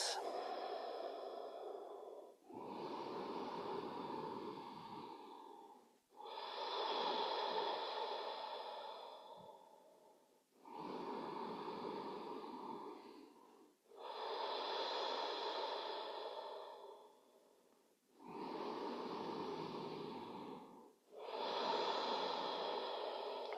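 Slow, deliberate meditation breathing: seven long, airy breaths in a steady rhythm, each lasting a few seconds with short pauses between, close and clear without any talking.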